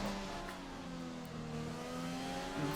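F1 2020 racing game Formula One car at the Hungarian Grand Prix, its engine droning steadily at high revs through the hairpins with a rising harmonic whine, close and continuous, no talk over it.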